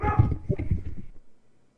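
A pet dog barks several times in quick succession, close and fairly loud, the yaps trailing off into a short whimper before quiet.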